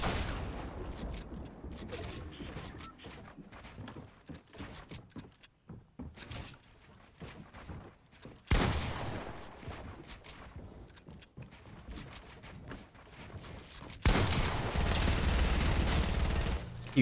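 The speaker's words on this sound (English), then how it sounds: "those guns just absolutely overpowered" Rapid automatic gunfire bursts crackle in the video game Fortnite, dense volleys separated by short gaps, loud and close in places.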